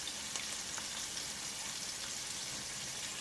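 Chicken pieces dusted with smoked paprika browning in a hot pan for cacciatore, a steady dense sizzle filling the whole stretch with faint crackles, close and even, no voices.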